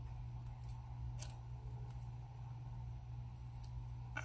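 Scissors snip the ends off paper tabs, giving a few sharp, separate cuts against a quiet, low hum.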